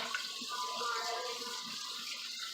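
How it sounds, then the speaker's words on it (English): A steady stream of hot tap water pours into a bowl, a continuous rushing splash with a faint gurgling tone, uninterrupted from start to end. "So I go ahead and run some hot water here in this bowl for a minute just to kind of warm it up"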